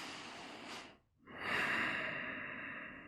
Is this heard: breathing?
yes